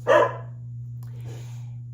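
A dog gives one loud, close bark at the mailman, and a faint second yip follows. A steady low hum runs underneath the whole time.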